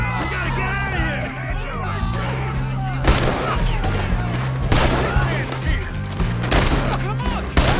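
Gunfire rattles through a Red Dead Redemption 2 shootout, with repeated loud shots and bursts layered over a steady low rumble, while characters shout over the chaos.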